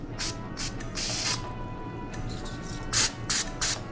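A can of Pam cooking spray sprays at a kitchen sink in short hissing bursts, roughly six of them with pauses between, close and fairly loud, with no talking.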